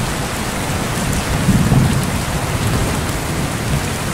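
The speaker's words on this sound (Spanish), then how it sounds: "Y empieza a llover." Steady rain pours down on a coastal setting, a dense unbroken hiss with low rumbling underneath, constant and fairly loud throughout with no voices.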